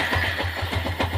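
A balky engine finally catches and runs after earlier failing to start, settling into a steady, loud low throb with rhythmic pulses, close by and with no talk over it.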